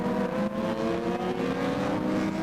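Racing motorcycles ride out for a hot lap at the 1990 Michigan Grand Prix at Grattan Raceway, a steady, loud, continuous engine drone that rises and holds without a break.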